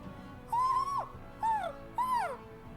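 Owls hooting in the video game Tales of Arise, three distinct rising-and-falling calls in quick succession, clear and close over a quiet background.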